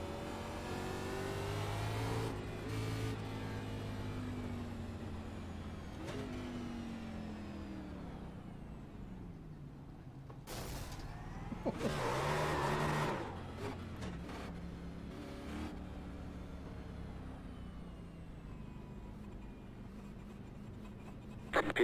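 An iRacing race car rolls into the pits after the race, its engine note gliding down through falling harmonics then idling low, with a couple of sharp bursts of noise midway and a quieter steady hum afterward.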